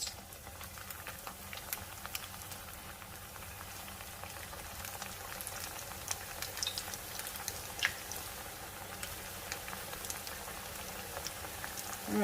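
Food sizzles in fry oil at about 350 to 360 degrees Fahrenheit, a steady dense crackle and hiss like rain that continues evenly throughout, close up, with no talk.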